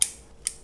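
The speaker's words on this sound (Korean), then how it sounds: "그래서 이 부분도 가위로 해서 제거를" Scissors trimming geranium roots during winter repotting: two sharp, close metallic snips about half a second apart, crisp against a quiet background.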